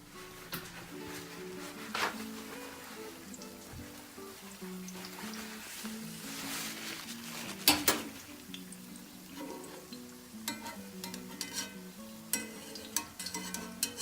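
Dandelion fritters sizzle and bubble in hot frying oil with a steady, soft crackle. Sharper pops and spatters break through now and then, close up and with no one talking.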